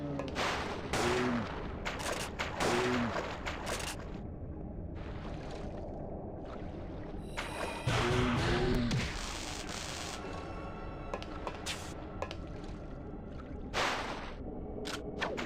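Repeated loud shotgun blasts and weapon bursts from the survival horror game Parasite Eve 2, firing in irregular clusters with booming echoes over continuous game noise, no talking.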